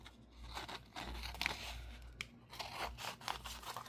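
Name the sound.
cutting paper napkin with scissors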